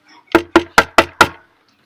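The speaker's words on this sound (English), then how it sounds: "There was a knock at the door." Five sharp knocks on a door, evenly spaced and close, rapping out in quick succession with no talk.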